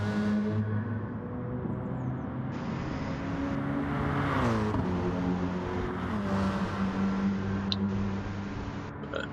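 Racing cars at Le Mans in a racing video game, with engines droning at steady pitch and one car's tone sweeping down as it passes close, the sound layered and continuous.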